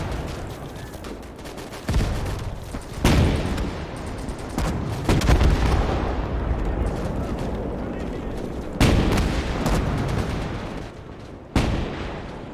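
Several heavy artillery gun blasts go off in the World War II game Gates of Hell, each one a loud booming shot spaced seconds apart over a constant roar of battle noise, with a voice talking throughout.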